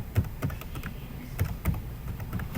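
Quick irregular typing on a computer keyboard, close and fairly loud, with soft clustered keystrokes and brief pauses, no voices.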